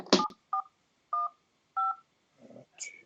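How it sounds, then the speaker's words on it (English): A phone keypad sounds a sequence of DTMF dialing tones, four or five short beeps at irregular intervals, close and clear, with a brief higher tone at the end. "I'm also going to dial in on this phone"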